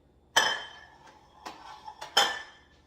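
A bowl being set down and handled for a serving of Samyang Buldak Habanero Lime noodles, with two sharp ceramic clinks and a few lighter knocks in between, close and clear with no talking.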